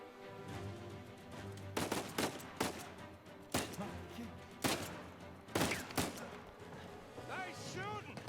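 Gunfire in the video game Uncharted 4: several sharp, loud shots in irregular bursts, with game speech and a short whistling effect near the end.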